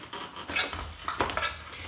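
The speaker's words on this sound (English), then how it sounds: "now I will crumble the cornbread up" Cooled cornbread is crumbled in a baking pan, with scraping, clinking handling sounds in short uneven bursts, close and moderately loud, with no talk.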